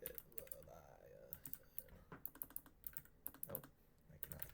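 Quick, irregular clicking taps come from a new computer keyboard, close and fairly loud, arriving in short bursts with small pauses between them.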